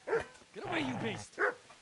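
A dog in the medieval video game Kingdom Come: Deliverance gives two sharp, close barks with a low snarling growl between them.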